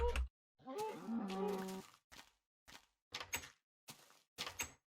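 A wooden door in a blocky farming game creaks open with a drawn-out groan, then a series of short clunks and thuds follows at a steady rhythm, all fairly close with nothing else heard.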